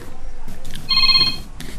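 Cellphone ringing in an office, a short burst of bright electronic ring tones heard once, close and fairly loud between muffled sounds.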